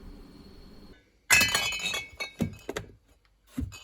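Glass bottles clink and knock together during bottling of homebrewed beer, a sharp cluster of bright chimes followed by several separate lighter taps close by, with quiet gaps between.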